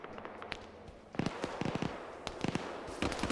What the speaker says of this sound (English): We just had a Dishka open fire.